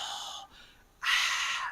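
Breath flows audibly in two breathy exhalations, a softer one and then a stronger, fuller one after a brief pause, close and alone with no voice.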